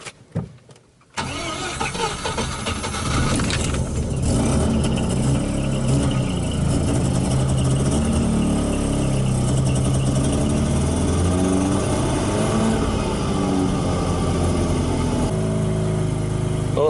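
A flooded Mazda RX-8 project car's rotary engine cranking and catching after a brief quiet moment, then running steadily at a loud, buzzy idle up close with small shifts in pitch as it is revved.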